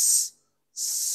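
A human voice makes a sharp, bright hiss to imitate the Arabic letter sha, breaking off for a short silent gap before a second, equally strong hiss.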